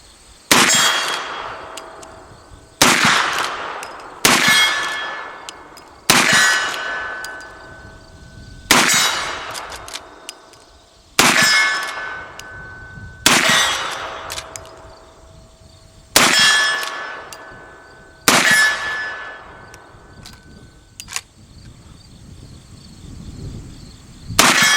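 Shots from a lever-action rifle chambered in .44-40 ring out at 50 yards, each followed by a ringing clang off a steel Hanging Hank target, about ten loud blasts spaced a couple of seconds apart with no talking.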